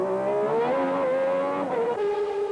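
A 1991 Formula 1 car races down the pit lane, its high-pitched engine whine steady and loud with a slight pitch dip near the end.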